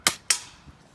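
Two sharp, loud cracks about a quarter second apart from a Daisy No. 25 100th Anniversary Limited Edition BB gun, each a short snap with a brief decaying tail.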